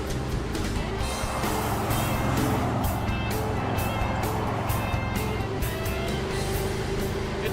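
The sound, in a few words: 1964 Chevrolet Malibu driving down the road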